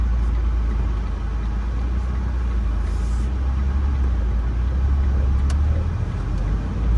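A car easing into traffic in Savannah, Georgia, heard from inside as a steady low engine hum and road rumble with a faint passing whoosh, no voices.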